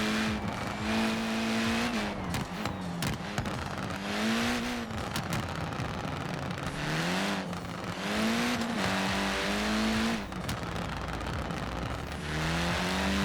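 A Ford Racing Puma with 70 pounds of boost in Forza Horizon 4 revs hard and repeatedly, its engine rising and dropping through gear changes, with bursts of tire squeal and skidding in between.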